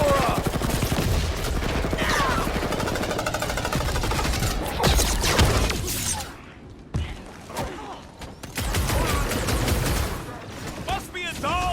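Rocket fires his weapon in a Guardians of the Galaxy video game, with rapid bursts of gunfire crackling through most of the scene, dropping out briefly partway, mixed with voices talking over the action.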